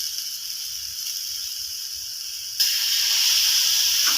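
Masala sizzles and hisses steadily in a hot pan, with vinegar added to the mix; the frying suddenly grows louder and brighter partway through and stays at that level.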